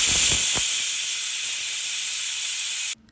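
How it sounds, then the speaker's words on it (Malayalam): A pressure cooker whistles while cooking kadala curry, a loud sustained steam hiss that runs for about three seconds and then cuts off abruptly. "അങ്ങനെ ഇതാ 8ാമത്തെ വിസിലും അടിച്ചു"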